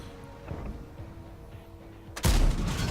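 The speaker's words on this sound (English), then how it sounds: "Nice shot into the mouse." A tank main gun fires in World of Tanks clan-wars play on the Ruinberg map, a sudden heavy boom near the end following low rumbling engine and battle ambience.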